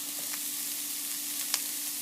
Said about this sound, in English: if you listen, you hear that they're starting to get a little bit of sizzle going